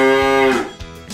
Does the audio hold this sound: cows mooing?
yes